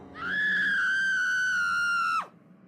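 A woman screams once, a long, loud, sustained high-pitched cry that cuts off abruptly after about two seconds, close by, with faint background noise.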